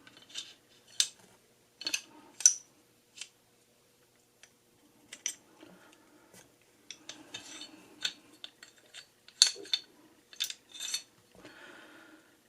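Slide being pulled off a Tisas 1911 Stingray 9mm pistol during disassembly: light metallic clicks, scrapes and taps in irregular bursts, quiet and close, with no speech.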